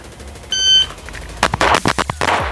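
A Bul Armory Tac Comp pistol fires a rapid string of sharp shots at a shooting competition, preceded by a brief electronic start beep, the reports loud and close in quick succession.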